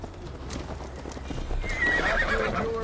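Horse hooves clip-clop steadily as Eivor rides in Assassin's Creed Valhalla, with a whinny and a rising musical swell coming in over the continuous, moderately loud gallop.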